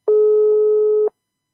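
A steady telephone line tone during a call, one continuous buzz lasting about a second, loud and close, starting and stopping abruptly with no talk over it.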